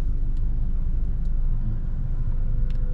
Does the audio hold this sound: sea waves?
no